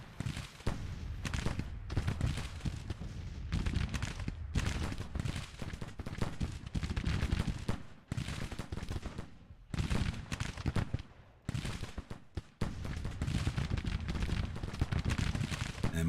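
Dense musket volleys crackle without pause through a Civil War battle in the strategy game Grand Tactician: The Civil War, many overlapping shots rolling in waves at steady loudness with a few brief lulls.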